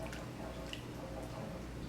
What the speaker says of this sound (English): in goes our milk. So we're just going to stir this up a little bit until it thickens just a bit